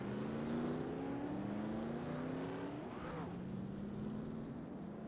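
Race cars in a video game pull away from the grid at Michigan, several engine notes rising and overlapping in a steady loud drone, one car sweeping past near the middle.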